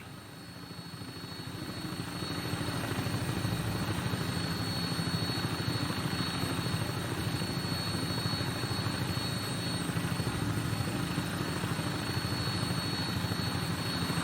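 Steady, continuous rotor and engine drone of a vertibird aircraft on final approach in Fallout 4, loud and unbroken throughout with no talking.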